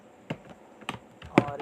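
Keys tapped on a computer keyboard while entering text in MS Word, a few separate, fairly sharp clicks spaced out over a quiet background with no voice.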